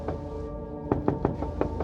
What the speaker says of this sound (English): Because 4 knocks didn't work